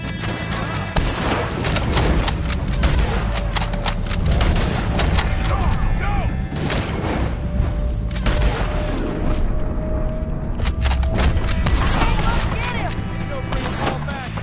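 A Red Dead Redemption 2 shootout sounds as dense, continuous gunfire, with loud overlapping shots and booms packed tightly from start to finish at high volume.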